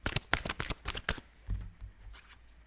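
Tarot cards shuffled by hand in a quick run of crisp riffling bursts, close and fairly loud, then a softer thud and settling rustle as the deck is squared.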